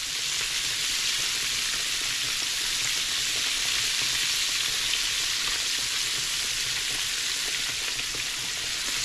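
Southern-style catfish pieces deep-fry in hot oil, giving a loud, dense, unbroken sizzle that holds steady from start to finish with no voices.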